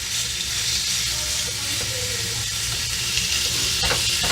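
Pork chops sear in a hot pan just after being flipped, a steady loud sizzle and crackle of frying with faint pops throughout.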